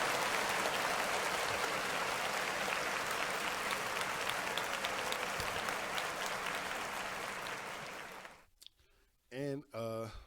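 Dense applause from an audience, loud and steady for several seconds, then tapering off as a voice begins speaking at the end.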